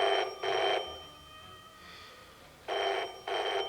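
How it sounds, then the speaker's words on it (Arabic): A telephone rings in two double-burst trills separated by a quiet pause, each ring loud and close in an otherwise still room. "وده غلس مين اللي بيرن دلوقتي ده؟"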